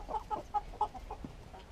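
A calm hen clucking close by, a quick series of short soft clucks in an uneven rhythm, ending with a lower croak, set against faint outdoor background.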